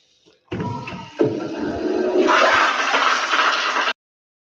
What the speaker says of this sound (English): The flush on the toilet makes everything complete.